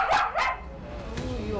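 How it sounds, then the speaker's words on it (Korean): A dog barks twice in quick, loud succession, then a fainter third yip follows amid quiet room noise. "가만히 있다가도 갑자기 짖는다는 건데요"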